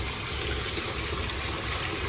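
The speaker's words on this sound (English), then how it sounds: "let's get some hot water rolling up here in this bowl" Hot water running into a shaving bowl, a steady, dense rushing flow that stays even and fairly loud throughout with no pauses and no voices.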